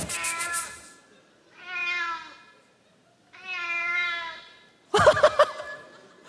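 A cat lets out two drawn-out meows close by, separated by pauses, with brief laughter from people before and after.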